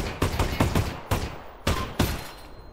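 Gunfire in the VR game Half-Life: Alyx as magazines are emptied: about seven or eight sharp, loud shots at an uneven pace, each with a short echoing tail and no voice over them.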